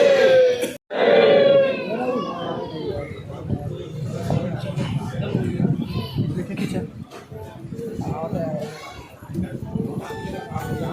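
A large crowd of thousands of devotees streams back to an ashram after a morning sermon, a loud, dense murmur of many voices with a few shouts and children's calls rising above it.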